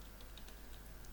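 Soft tapping on a computer keyboard, a few quick faint keystrokes over a steady low hum.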